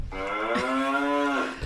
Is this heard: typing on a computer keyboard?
no